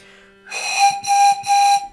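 A homemade pan flute made from cut drinking straws sounds a G note in three breathy, sustained toots of roughly equal length, close and clear.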